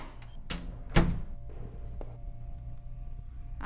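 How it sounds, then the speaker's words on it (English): A door is unlocked and opened in a house in a murder-mystery video game, with a few sharp clicks, a heavy thunk and a quieter knock, then a low hum. "I used the key ring to unlock the door."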